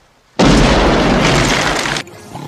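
A loud cartoon shotgun blast erupts as a sudden booming burst that holds for over a second and a half before it cuts off.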